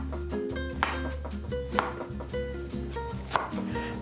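A knife slices through a pineapple on a cutting board, several crisp chopping cuts landing at an uneven pace, close up and alone over a low background hum.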